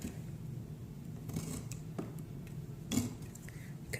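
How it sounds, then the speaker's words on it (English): A blade slices around a wooden frame to cut canvas free for a reverse canvas project, giving soft, uneven scraping cuts with a sharper snip near the end, close and steady with no talking. "cut through that canvas"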